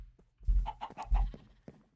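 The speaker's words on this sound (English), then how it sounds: "Let me get my chickens up and going here." Chickens in Minecraft cluck close by in a few short bursts of rapid, throaty clucks separated by brief pauses.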